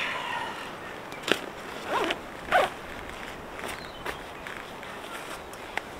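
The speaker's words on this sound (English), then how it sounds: "Did I mention I hate zips that get caught?" A tent zip being worked and snagging during zipping, with short rasping pulls and a couple of louder tugs against a steady background hiss of rain on the tent.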